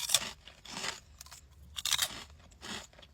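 Spicy pickle flavored hot Cheetos are bitten and chewed up close, giving four or five loud, dry crunching bursts separated by brief quiet gaps.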